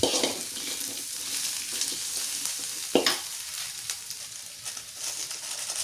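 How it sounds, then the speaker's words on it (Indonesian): Fried tempe stirred with spice paste in a wok, a steady loud sizzle with scraping of the spatula and a sharp clatter near the middle, no voices. "masukkan tempe yang tadi udah digoreng. Oke, lanjut diaduk lagi."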